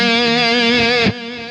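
A distorted electric guitar holds a sustained, buzzing chord or note in E minor for about a second, loud and saturated, then cuts off, leaving a brief quieter ringing tail.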